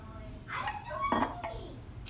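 A spoon clinks against a container while stirring yogurt starter into cooled milk, giving a few close, bright taps and scrapes, with a voice briefly audible.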